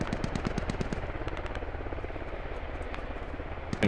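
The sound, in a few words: enemy helicopter in a video game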